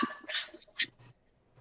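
A small dog is excited and gives a few quiet, short yips, huffs and whimpering breaths in uneven bursts, fairly faint and close, with pauses between them.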